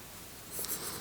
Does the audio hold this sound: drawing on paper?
yes